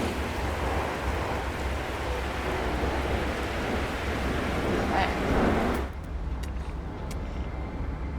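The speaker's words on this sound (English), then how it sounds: "Does it have to storm every 2 fucking seconds?" A heavy, steady wash of rain roars through a stormy alien planet in No Man's Sky, broadband and close, with a rumble of thunder that cuts off abruptly into quieter rainfall.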